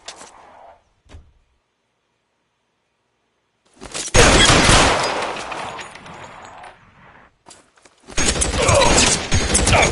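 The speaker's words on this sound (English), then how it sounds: "Shots fired." Video game gunfire in L.A. Noire, heavy bursts of rapid shots after a near-silent pause, loud and close, one long volley and then a second fusillade.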